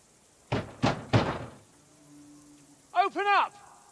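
Three heavy knocks on a wooden door in Kingdom Come Deliverance 2, evenly spaced thuds close by, followed by a short voiced call afterward.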